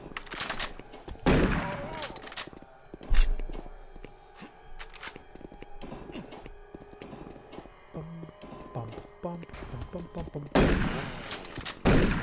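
Shotgun blasts in Doom 3 boom out in several loud, separate bursts mixed with clanking game effects and a busy ambient background, with some distant firing between the main shots.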